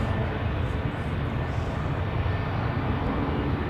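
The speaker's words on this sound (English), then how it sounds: "next takeoff here on 32" A jet airplane takes off from runway 32 at Zurich Airport, a steady, distant, broad engine roar that stays even across the short stretch.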